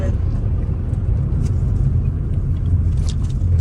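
A newly bought used car on a test drive through a UK town centre, its engine and road noise making a steady, loud, low rumble from inside the cabin with no clear changes.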